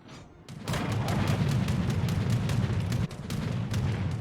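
Bombs striking the battleship Missouri in a naval video game: a heavy, continuous rumble of overlapping explosions and booms that holds loud and steady for several seconds after a quiet start, with a brief dip partway through.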